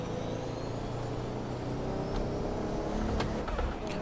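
A 500 hp Lexus GS300 in the Assetto Corsa racing game drones steadily at speed on a highway, the engine note holding a constant hum with faint tire and wind noise, no voices.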